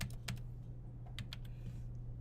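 A few quick computer-keyboard keystrokes tap out a short word in irregular bursts, close and fairly quiet over a steady low electrical hum.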